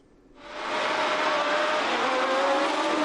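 V12 racing cars roar off the start at Clermont-Ferrand, a downhill run into a left-hand corner. The sound rises abruptly from near quiet into a loud, sustained, high-pitched engine howl.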